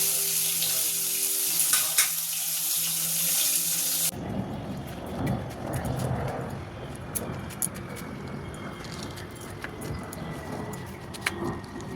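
Fish is added to a simmering Bengali fish curry in a pan, giving a loud, bright sizzle for a few seconds, then a softer bubbling with occasional light clicks and clatter, close at hand.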